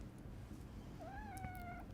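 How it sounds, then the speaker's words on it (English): A pet cat gives a single drawn-out meow with a rising start, held close by its owner over a steady low background rumble. "That's my cat. I'm holding him because he won't leave me alone."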